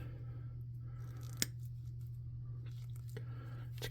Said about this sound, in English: I'm going to cut it